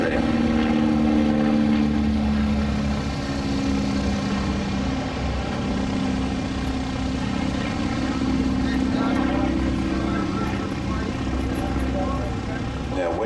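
Vintage warbird aircraft flying a slow roll at the Flying Legends airshow in 2018, its steady propeller engine drone loud and continuous throughout, with a voice talking over it.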